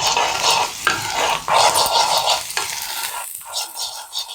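Suji upma with onion, chilli and peas sizzles in a pan while a spoon stirs and scrapes through it, loud and close, in uneven bursts that fade toward the end.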